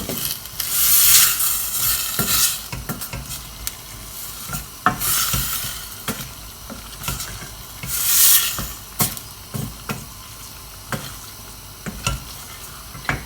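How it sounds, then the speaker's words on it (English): A spoon scrapes and stirs minestrone soup with chopped tomatoes in a pan, with repeated rhythmic strokes over a soft sizzle, close and alone. "going to give it a stir with the chopped tomatoes in it"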